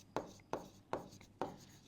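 A pen writes on paper in four quick, evenly spaced scratching strokes, close and quiet.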